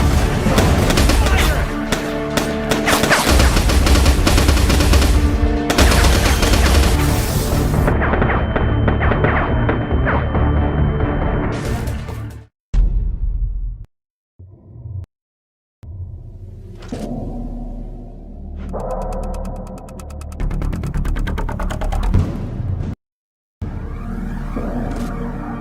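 Gunfire in the horror game Foreclosed: loud booming, rumbling shots and throbbing blasts fill the first half, then break into bursts separated by sudden silences, with a voice heard in between.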